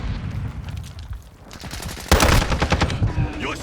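Gunfire in the video game Modern Warfare 2: bursts of rapid automatic shots crackle through busy game noise, with a loud dense volley at the end and some speech mixed in.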